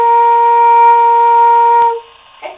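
A flute sustains a single steady B flat note, fingered with thumb, first finger and pinky, loud and clear for about two seconds before it stops, followed by a faint short noise.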